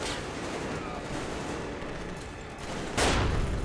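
Gunfire in the video game Metro Exodus, a dense, continuous barrage of shots under a busy combat din, with a louder, sharper burst near the end.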